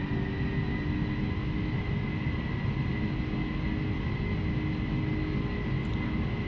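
Four engines of a Boeing 747-400 in the FSX flight simulator roar steadily at takeoff/go-around thrust, a dense, continuous jet rumble with a high whine held at constant loudness throughout.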